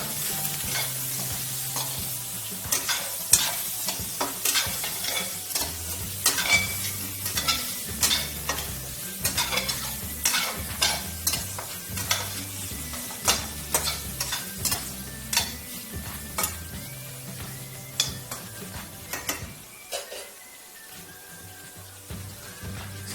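Onions frying in a pan with a little salt crackle and sizzle steadily while a utensil stirs and scrapes them in repeated sharp clicks, with a low hum beneath and a brief lull near the end.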